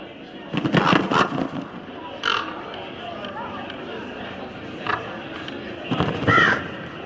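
Birds caw in a Dragon Age Inquisition game scene, a few harsh calls scattered over several seconds over a steady ambient bed, with voices faintly present.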